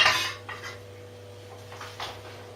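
Utensil scraping and clinking against a pan while stirring stew, with a sharp clatter at the start followed by several softer scrapes spaced through the stretch, close and fairly quiet.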